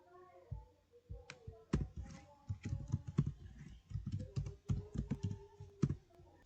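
Quick, uneven keystrokes on a computer keyboard while entering Cisco router commands, dense clattering bursts close to the mic, with a brief soft voice near the start.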